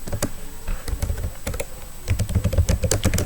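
Fast typing on a computer keyboard with the enter key pressed, a steady run of crisp close clicks and taps with a few heavier strokes, no voice heard.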